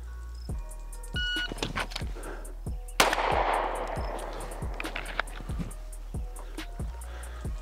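Pistol shots fired at a 25-yard range during a timed qualification stage, sharp loud reports repeating at a fairly steady rhythm, with one heavier blast followed by a brief rumbling echo.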